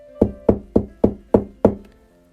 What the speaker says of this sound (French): les soldats ont frappé à la porte